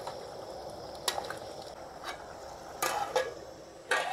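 Mutton curry seasoned with garam masala is stirred in a pan in a village kitchen, giving soft scraping clinks of the spoon against metal over a low simmering sizzle, with a few sharper knocks spaced through the stretch.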